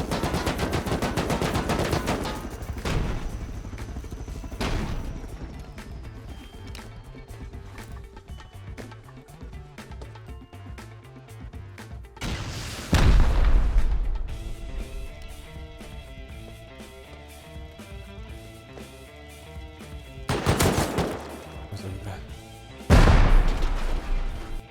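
Heavy gunfire and explosions in the Rust video game as two helicopters are destroyed, with loud bursts of automatic fire and several big booms rising over a constant dense battle din.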